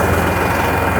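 Massey Ferguson tractor engine idles loud and close, a steady low rumble with a fast regular pulse throughout the short stretch.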